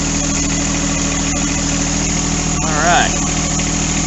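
A new John Deere 4x4 tractor engine idling up close, a loud steady mechanical rumble with a constant low throb, while someone briefly speaks over it.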